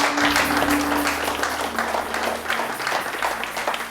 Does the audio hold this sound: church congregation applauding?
yes